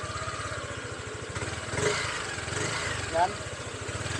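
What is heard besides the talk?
motorcycle engine revving with clicking rattle from magneto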